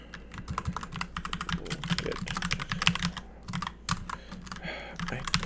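Rapid, uneven typing on a computer keyboard, with close, crisp key clicks in bursts and short pauses over about five seconds and no talking.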